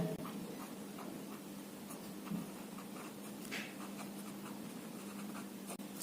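Pen writing on paper with steady faint scratching strokes and small taps, close up, while the radius of a circle is noted down during a maths lesson, with no talking.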